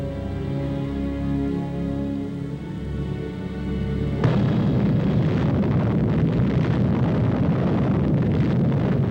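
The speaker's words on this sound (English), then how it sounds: "The tremendous detonation, felt 260 miles away, shakes the earth under the soldiers, and the blast fills the air with flying dust." An atomic bomb test detonation with soldiers positioned miles from ground zero: a steady low rumble gives way to a sudden loud blast that becomes a sustained, dense roar rolling on with dust and debris and never dying down.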